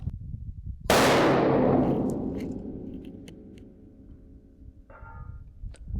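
A sharp, loud report from a hunting rifle cracks with a long decaying tail, and a faint metallic ping follows a few seconds later as the bullet strikes a steel target at 1,000 yards.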